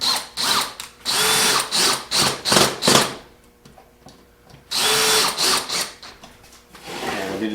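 A power drill drives screws into wood boards being glued together at a 45-degree angle, with repeated short whirring bursts in two clusters separated by a quiet pause.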